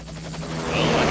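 Helicopter in a video game, a steady rotor and engine drone with low rumble that swells slightly louder over about a second, with no voices.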